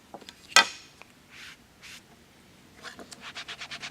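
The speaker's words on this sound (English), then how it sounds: "Ink that up real well" A rubber stamp is dabbed onto a Lavender ink pad for a handmade botanical card, a sharp scrape followed by soft rubbing, then a quick run of rhythmic pats, close and fairly quiet.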